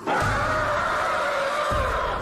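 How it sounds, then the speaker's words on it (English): Lindsay, a cartoon girl stranded in a prehistoric setting, lets out a long, shrill, sustained scream that holds steady and loud for a couple of seconds. "Looks like Lindsay's blood-curdling screams have attracted a swarm of prehistoric pterodactyls."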